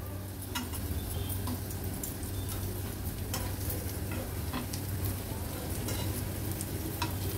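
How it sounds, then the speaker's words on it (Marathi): Elephant foot yam (suran) slices frying in a spoonful of ghee over medium flame, a steady close sizzle with scattered ticks and pops throughout, no talking. "मीडियम फ्लेमवर आपल्याला हे सुरणचे काप फ्राय करून घ्यायचे"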